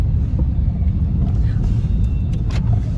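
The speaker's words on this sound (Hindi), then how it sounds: "मोड़ दूं मैं गाड़ी एक बार" A black Maruti Suzuki Baleno drives and turns, giving a steady low rumble of engine and road noise close up throughout with no talk over it.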